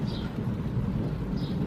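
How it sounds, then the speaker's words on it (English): Low, continuous rumble of thunder outside, steady and moderately loud throughout with faint rain-like hiss, no voices. "It's thundering outside."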